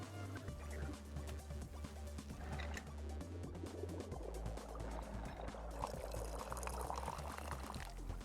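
Tea poured into a froggy-shaped monster cup in the game Wanderstop, a steady, continuous liquid stream that splashes loudly and fills the cup for several seconds, alone with no talk.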